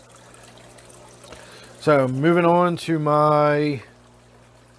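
Steady water trickles from a waterfall in a 125-gallon aquarium, a soft continuous wash under a voice that talks over the middle of it.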